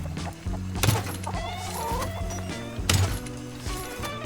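Chickens in a coop in the video game Rust, soft clucking and murmuring sounds mixed with a steady mechanical drone, with two louder bursts around the first and third seconds.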